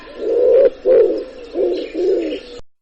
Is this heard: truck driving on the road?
no